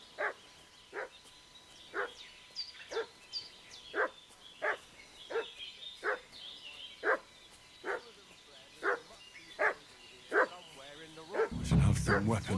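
Dog barking in Kingdom Come: Deliverance II, a steady series of about a dozen sharp barks at even intervals, moderately loud over faint background ambience, ending in a brief low rumble.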